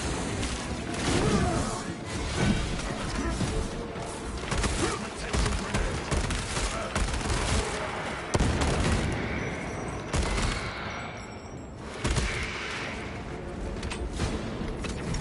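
Bolter fire in Warhammer 40,000: Space Marine 2, dense sustained bursts of heavy automatic gunfire with booms and mechanical clatter, loud and continuous throughout with no pauses.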